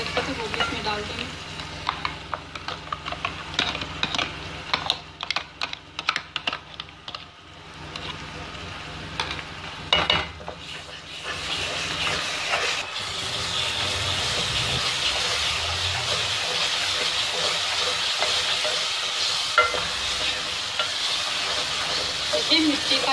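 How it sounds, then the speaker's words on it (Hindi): Mashed eggplant tipped into fried masala in a pan and stirred, giving a steady, close sizzle with scraping stir strokes. Bursts of crackling early on settle into a continuous frying hiss. "मसाला हमारा भून गया, जो बैंगन पीस के रखे थे वो भी इसमें डाल देंगे।"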